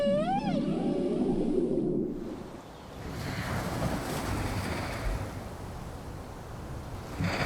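Male whales sing in the sea off Baja, Mexico: a rising and falling tonal moan with harmonics opens the clip, then gives way to steady wash of surf and wind noise that carries on to the end.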